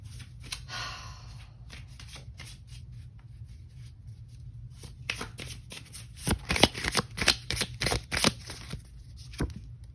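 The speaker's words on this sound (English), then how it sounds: "we'll pull one more card" Tarot cards being shuffled in repeated bursts of crisp riffling and snapping, quieter and softer at first, then louder and denser toward the end, heard alone over a low steady hum.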